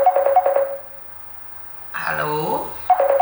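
A mobile phone rings for an incoming call, its electronic tone sounding in short bursts that stop, then start again, close and clear.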